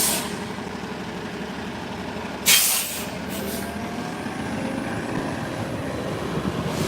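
Truck air brakes hiss in a sharp burst midway through steady city street traffic, with engines rumbling low and constant before and after.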